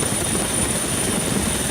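Relief helicopters flying supplies to flood-stranded people in Sri Lanka, a loud, steady rotor and engine drone filling a brief moment before cutting off abruptly.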